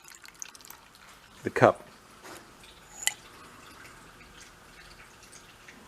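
Fluid drains and drips from a junked Simplicity 1250 snow blower: a close trickle with a pronounced splashy burst and a later sharp drip, under a voice speaking briefly.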